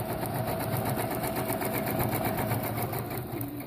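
A sewing machine runs steadily while stitching fabric, its rapid, even mechanical chatter repeating in a fast rhythm close up, with no talking over it.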